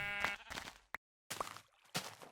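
Sheep in the Minecraft video game bleat in short separate calls, four quick bleats with brief gaps between them, clear and close.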